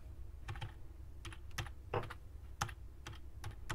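Typing on a computer keyboard: a quiet, irregular series of about a dozen soft key clicks, some in quick pairs, close by with no talking.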